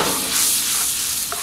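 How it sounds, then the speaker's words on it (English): Chilies sizzling in a frying pan for a saag aloo, a loud continuous close-up hiss with faint stirring, no voices. "now I'm going to add the chilies"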